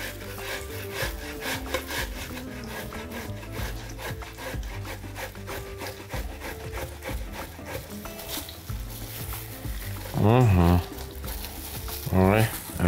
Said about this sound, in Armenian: Եվ քերում ենք նախապես խաշած բազուկը։ Քերում ենք մեծ անցքերով։